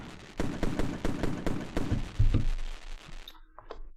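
A fireworks sound effect fires a fast run of sharp pops and bangs, then a few deeper booms. The volley cuts off, and faint scattered crackles follow.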